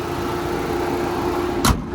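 A 2018 Mitsubishi Eclipse Cross Exceed's 1.5 litre turbo engine idles in a steady, even hum, heard close with one brief louder knock near the end and no voices.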